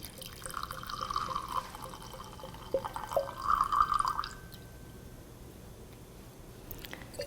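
Wine trickles through a handheld aerator into a glass, a soft gurgling pour with a brief splashy burst midway before tapering off, quiet and close with no voices.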